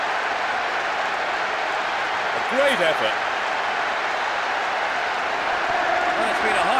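Large stadium crowd in the PES 6 football game roars steadily after a goal, a broad sustained murmur with some applause, while a commentator speaks over it.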